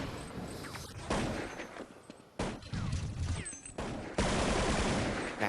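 Bursts of rifle fire from Counter-Strike 1.6 crackle in several sharp volleys, loud and dense, separated by short pauses.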